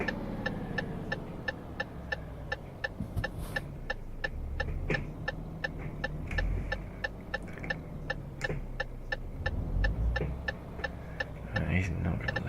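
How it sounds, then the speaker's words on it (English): Tyres riding along a road rumble strip, giving a steady rapid ticking pulse over a continuous low engine and road rumble. The vibration is loud and close and runs through the whole stretch. "You can hear the vibration, I think, as I'm riding the rumble strip."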